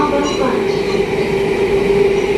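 An SMRT metro train runs between stations toward Harbour Front, a steady close rumble with a sustained tonal hum throughout, while a recorded announcement voice speaks over it.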